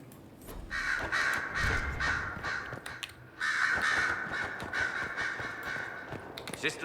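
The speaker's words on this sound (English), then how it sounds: "So many ravens here, you'd think this was a house in Game of Thrones." Ravens in Dragon Age: Inquisition caw harshly in two long, raspy bursts, the second after a short gap, over a dense ambient background at moderate distance.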